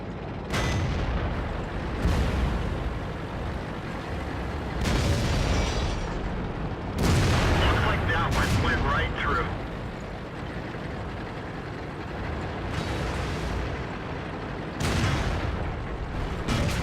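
Artillery shells land in World of Tanks, a run of heavy booming impacts spaced a few seconds apart, each a loud burst that fades into rumbling debris, with no talking.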